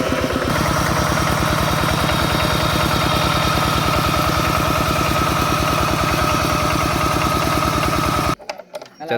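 An engine at a village wedding in Thailand fires up and settles into a steady, loud, rapid chugging idle, continuous and close, before cutting off abruptly near the end.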